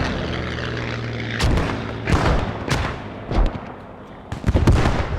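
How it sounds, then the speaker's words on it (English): Airplanes drone loudly overhead in the Scriptum video game, a thick continuous roar broken by repeated sharp bursts like distant gunfire or explosions. "Love the planes in Scriptum."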